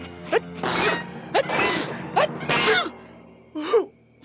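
Garfield, the cartoon cat, lets out a string of four sharp sneezes, each one starting with a quick breathy gasp, loud and close, with short pauses in between.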